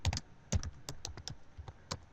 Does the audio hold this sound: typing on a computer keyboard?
yes